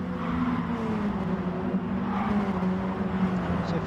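Mini Cooper race cars drive in a Mini Cooper Challenge race, their engines giving a steady, droning tone that holds at close range for several seconds without speech.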